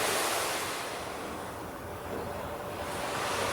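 Ocean wave sound effect: loud, continuous rushing surf that swells and eases slightly, a broad hiss of breaking water with no talk.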